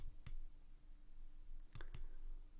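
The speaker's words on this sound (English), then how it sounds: "while contemplating my question to the oracle, I keep clicking the primary mouse button" A primary computer mouse button clicked in a quick few bursts, one sharp click early then a close pair near the end, faint and alone over a low steady hum.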